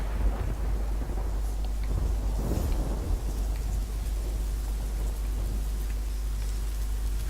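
Steady, heavy rain pours continuously in The Witcher 3: Wild Hunt, with a low rumble of thunder swelling briefly near the middle, loud and enveloping throughout.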